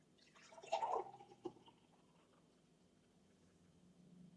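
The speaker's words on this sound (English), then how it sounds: "We start by zeroing the mason jar, 0. And then we pour that in." Freshly made green juice, foam and all, pours into a mason jar in a short, quiet liquid splash lasting about a second, then fades into a faint background hush.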